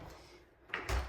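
An interior door in a house, one that reportedly won't close or lock properly, swings and knocks shut with a short muffled thud-and-clatter near the end, after a quiet room tone.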